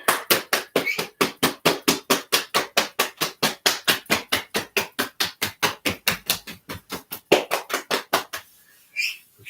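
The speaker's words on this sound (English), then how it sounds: "Now we pat the legs." Rapid, steady run of hand slaps patting down the legs during a tai chi session, dozens of crisp, close strikes in quick even rhythm, pausing briefly near the end before a few final pats.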